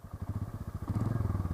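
A Royal Enfield Meteor 350 motorcycle engine catches and settles into a steady, close, thumping single-cylinder idle with a rapid even pulse, and no voices.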